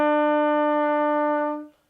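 A single sustained brass horn note E, played for a school band exercise, rings out clearly and steadily for under two seconds before being cut off cleanly.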